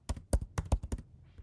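Someone types a name on a computer keyboard in a short burst of about seven crisp key clicks, close and distinct, ending with a softer tap, with no talking.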